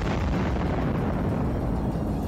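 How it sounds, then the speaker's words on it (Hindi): Landmine destroyed by controlled detonation, a huge sustained explosion roaring with dense low rumble throughout, loud and close, no voices. "ये बारूदी सुरंगें इतनी खतरनाक थीं कि नष्ट करने पर जबरदस्त धमाका हुआ"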